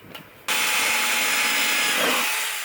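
An electric drill boring straight through the steel roll bar of a Nissan 350Z, preceded by a few faint taps, then a sudden loud steady whine and grind that holds close and even until the end.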